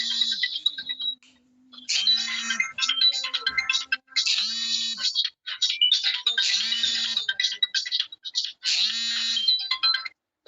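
A mobile phone ringtone rings during an online meeting, playing a bright repeating melodic phrase in four bursts over a steady low tone, loud and close, with brief pauses between rings and no talk.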